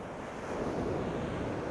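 Ocean surf washing against icebergs on Iceland's Diamond Beach, a steady broad roar of waves that swells slightly midway, with wind buffeting the microphone and no voices.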